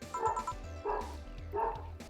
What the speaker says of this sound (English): Is there still a dog in that bathroom? Ah, you can hear that.